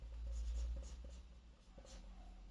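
A pen writes by hand on paper while working out a staircase design, producing faint, close scratching strokes in short irregular bursts over a low background hum.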